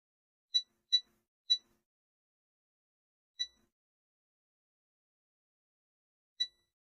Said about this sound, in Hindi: बीप आ रही है यानी ये कैपेसिटर ख़राब है